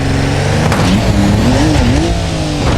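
A Land Rover Defender grinds up a steep off-road climb in BeamNG, its engine droning loud and close with a rising, wavering pitch as it strains forward.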